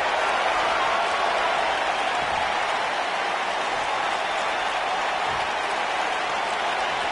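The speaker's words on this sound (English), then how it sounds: "the crowd's on the edge of their seats" A wrestling arena crowd at a televised AEW Dynamite show makes a steady, dense roar of cheering and applause, distant and continuous throughout, with no clear talking.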